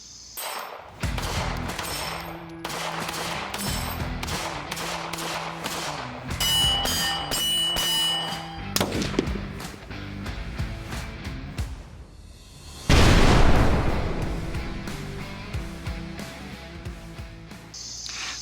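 SIG 229 pistol fired on a range: a series of sharp, loud gunshots in irregular succession, some spaced apart and some in quick pairs, with one especially heavy report near the end, no talking.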